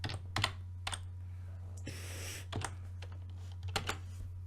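Code is being typed on a computer keyboard, with scattered close key clicks and a few quick bursts over a steady low electrical hum and a brief whoosh in the middle.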